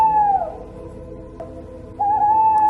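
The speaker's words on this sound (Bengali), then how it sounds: "3-4টা পেঁচা ডেকে উঠল একসঙ্গে।" Owls call on a misty moonlit night by a river, long drawn-out whistling hoots, one fading and another rising clearly after a short pause, with no voices.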